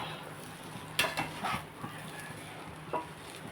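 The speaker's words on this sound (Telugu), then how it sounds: "ఇప్పుడు ఇందులో మనం ఉప్పు అది చూసుకుని మళ్ళీ ఒకసారి కలుపుకుంటే సరిపోతుంది" A spoon stirring egg fried rice in a pan, with a few scraping clinks against the metal and a soft background sizzle, fairly quiet and close, no talking.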